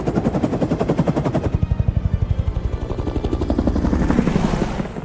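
A helicopter in the video game Hitman thuds with a fast, steady rotor chop that stays loud and close throughout, with no one speaking over it.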